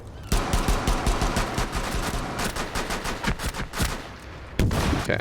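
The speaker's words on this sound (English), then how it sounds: "They can shoot while having their gadgets out." Rapid gunfire in a video game comes as dense bursts of repeated shots. It is loud and continuous, eases briefly near the end, then resumes, with no talking over it.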